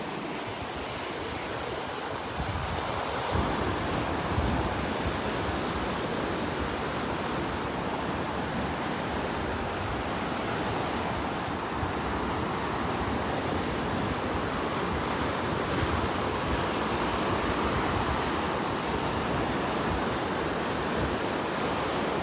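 A steady southwest wind blows at the beach at Wiggins Pass, a constant broad hiss mixed with soft surf wash, even and unbroken throughout with no voices.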